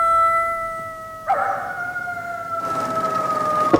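A dog howls in the St. Trinian's film, a long wavering wail held at a steady pitch for several seconds, loud and close, with a brief swell partway through and no talking over it.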